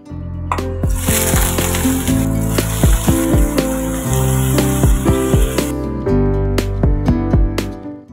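Spinach fries in a pan with a steady, fairly loud sizzle that fades after a few seconds, while music with clear melodic notes plays over it throughout.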